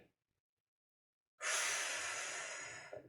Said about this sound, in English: So you breathe in on the way down, breathe out on the way up.